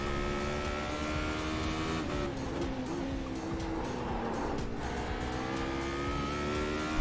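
Porsche race car in the iRacing video game, engine roaring loud and continuous with pitch rising and falling through gear changes and throttle, a brief tire squeal mixed in.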